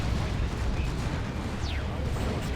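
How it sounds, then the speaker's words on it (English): An air-strike rocket run in the Dawn of War 2 strategy game unleashes a dense, continuous rumble of explosions and battlefield noise, loud and roaring throughout with a brief whistling streak partway through. "There's a rocket run."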